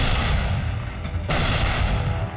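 A tank gun firing during the battle of El Alamein, heard as a loud, dense rumble of battle noise with one sharp blast cracking out midway.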